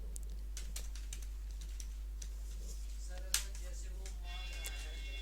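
Rapid keystrokes clatter on a computer keyboard, with scattered soft clicks and one sharper, louder key press near the middle, like Enter being struck, over a steady low hum.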